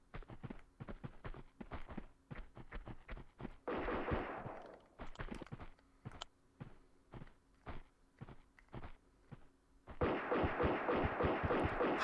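Gunfire from the video game Tomb Raider II: many sharp shots crack in irregular rhythm across the clip, with short rapid bursts and a dense noisy stretch near the end, loud and close with no talking.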